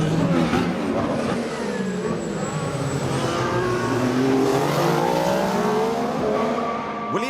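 Formula 1 race cars of the 2014 season, Rosberg and Bottas among them, roar past with high-pitched engine whine sweeping up and down through gear changes, loud and continuous, several cars blending together.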